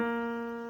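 One piano note, B flat, rings briefly and fades slightly over under a second, alone without any voice.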